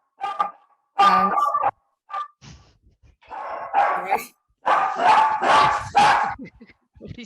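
A dog barks and yips repeatedly in the background of an online seminar call, several bursts of mid-distance barking with pauses between them.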